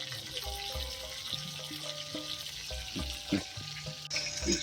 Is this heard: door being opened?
no